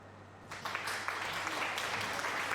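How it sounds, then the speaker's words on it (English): Applause rises suddenly after a quiet start and continues as a steady wash of clapping at moderate level to the end, with no voices over it. "That deserves applause."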